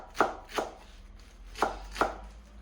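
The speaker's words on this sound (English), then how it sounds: "Every time I chop off coriander" Four crisp knife strokes through fresh coriander on a cutting board, in two pairs with a pause between them, close and fairly quiet in a home kitchen.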